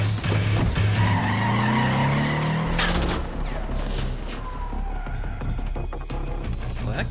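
A car in Wolfenstein: The New Order racing under gunfire, its engine roaring with tire skids and squeals while scattered gunshots crack around it, loud and chaotic throughout.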